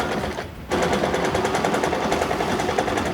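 A sewing machine chain piecing 5-inch quilt squares, starting after a brief pause and then running in a fast continuous rhythmic rattle, close and loud.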